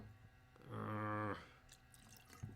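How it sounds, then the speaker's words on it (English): A splash of New Riff rye, an herbaceous rye whiskey, poured into a Sazerac cocktail: a single short liquid pour of under a second, close and clear, with no talking. "I'm going to add literally a splash of a particularly herbaceous rye. I'm going to go with New Riff here."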